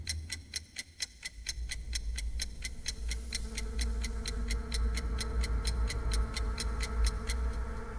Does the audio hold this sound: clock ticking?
yes